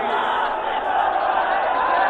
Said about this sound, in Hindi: अपार भीड़